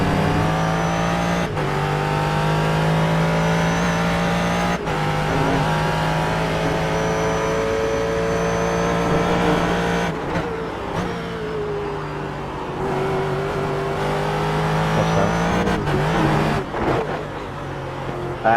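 Race car engine at Sebring heard from onboard, a loud steady drone that holds high, then drops and climbs through gear changes with sharp shift breaks, filling the whole stretch with no talk.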